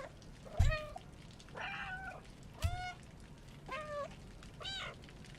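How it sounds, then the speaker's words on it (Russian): A cat meows repeatedly in the game Stray, five distinct drawn-out meows spaced about a second apart at moderate loudness, with faint background ambience between them. "Если 1000 раз мяукнуть, дают ачивку."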